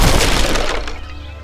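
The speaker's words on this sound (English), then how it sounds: "a man crashed through the window" A man crashing through a saloon window: one loud, close burst of shattering glass with tumbling debris, fading out over a second and a half.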